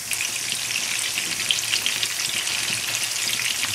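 Meatballs frying and simmering in a sauce in a pan, giving a steady, close hiss of sizzling with small bubbling pops throughout, no voices.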